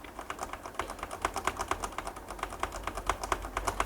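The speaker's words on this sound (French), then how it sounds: "on appuie sur la touche F2 pour aller dans le BIOS" Rapid, steady tapping on a computer keyboard while setting up a newly built PC to enter the BIOS, a quick even run of close clicks with no talking.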